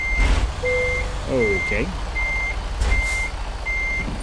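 A semi truck's reversing alarm beeping in American Truck Simulator while hauling tires, evenly spaced high beeps repeating over engine rumble, with a brief spoken word and a few squeaky tones in between.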